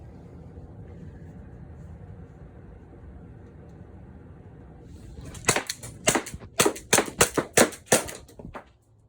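A less-lethal launcher fires a rapid string of about ten sharp shots at a target after several seconds of low ambient rumble, the cracks loud, close and unevenly spaced.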